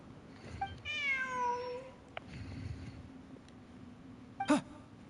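A cat in the video game Genshin Impact lets out one drawn-out, falling meow over quiet ambient background, followed later by a short, sharp chirp-like call.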